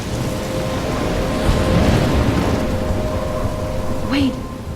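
Thunderstorm with rain in Life is Strange, a dense steady roar of heavy rain and rumbling thunder that swells midway, loud throughout.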